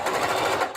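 A sewing machine runs fast and steady, stitching through thick layers of old denim jeans where the seams double up, making a close, loud, rapid mechanical whir with no pauses.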